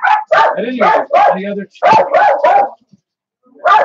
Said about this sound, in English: dogs, as you can tell.